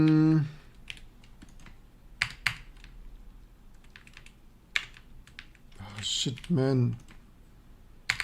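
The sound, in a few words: typing on a computer keyboard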